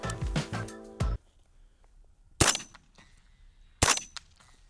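Three sharp, booming shots from an 8.6 Blackout AR-10 rifle firing subsonic rounds outdoors, spaced about one and a half seconds apart, each with a brief echoing tail and quiet between them.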